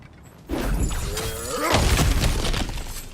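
Cracked ground being smashed through in the video game God of War Ragnarök: a sudden loud shattering impact, followed by a sustained rumbling crumble of breaking debris.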